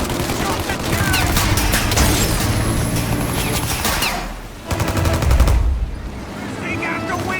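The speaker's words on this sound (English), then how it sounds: "Shoot out this gun when there's a break in the fire! Then reload! Shoot!" Heavy gunfire from a shootout in Mafia: Definitive Edition, with dense, continuous bursts of automatic fire and loud impacts rattling close by. A chaotic, sustained barrage swells near the midpoint, and a voice is faintly mixed in.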